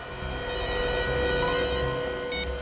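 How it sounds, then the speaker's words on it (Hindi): A telephone rings in a police crime-drama scene, repeated electronic trill bursts over a tense background music bed, fairly loud and close. "उस खबरी रघु का फोन था"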